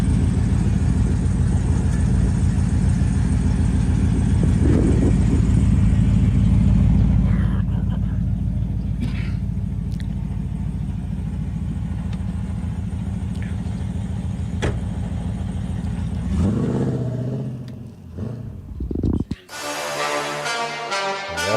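A car drives and revs on a played video clip, a steady loud engine rumble running most of the way before breaking up into other sounds near the end, with people talking over it.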